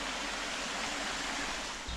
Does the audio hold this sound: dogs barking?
no